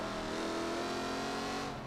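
A Jaguar F-Type accelerating around Suzuka in Forza Motorsport 7 gives a loud, steady engine roar that climbs slightly in pitch over a brief stretch, heard alone without voices.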